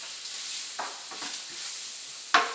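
Curry shrimp and snap peas cook in a pan, giving a soft steady sizzle broken by a few light stirring clicks and a sharper knock near the end, with no voices.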